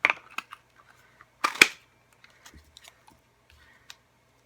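A handheld balloon-shaped paper punch pressing through glitter paper for card making: a few sharp close-up mechanical clicks, with one loud crunching double snap midway and light paper rustles between, no voices.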